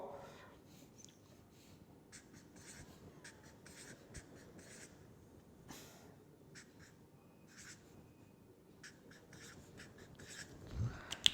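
Chalk or marker drawing a diagram on a board during a lecture, a long run of faint scratchy strokes in short bursts with gaps, quiet room tone and a louder knock near the end.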